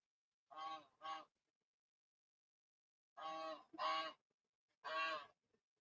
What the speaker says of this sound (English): Excuse my geese.